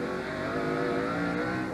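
NASCAR stock cars racing at Sears Point road course during the 2000 Save Mart/Kragen 350, a steady loud roar of engines running close together, continuous throughout without talk.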